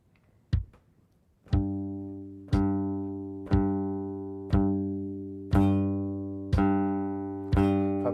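Guitar notes plucked one at a time, seven evenly spaced ringing tones each left to sustain and decay before the next, clear and close with no other sound.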